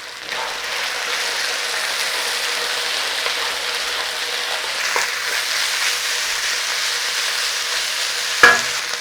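Beef coated in cornstarch stir-fries in a hot pan with a continuous sizzle and occasional scraping and clatter as it is tossed, ending with a sharp knock near the finish.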